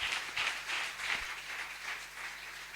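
A church congregation at a Sunday service gives a few seconds of steady, moderately distant applause, with rhythmic clapping fading slightly toward the end.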